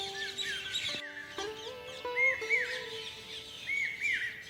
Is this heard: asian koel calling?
yes